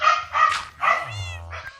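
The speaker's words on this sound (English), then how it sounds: "Dogs are upset at something." Dogs in Minecraft bark several times in quick succession, close and loud, followed by a drawn-out whine, with no talking over them.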